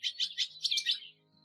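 A female barn swallow perched on her nest inside a barn gives a run of about seven quick, high chirping notes in a close, uneven burst that then stops.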